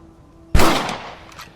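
A single sharp rifle shot in the Western video game Red Dead Redemption, a loud crack that rings out and decays over about a second, with a faint echo afterward and no talking.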